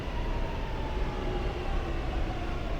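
Singapore subway train rumbling along the rails, a steady, close, low roar with faint whining tones running through it.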